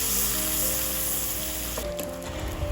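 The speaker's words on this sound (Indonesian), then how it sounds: "lalu kita goreng terinya" Dried anchovies frying in hot oil give a continuous loud sizzling hiss close up, with a brief stir or splash near the end and no talking.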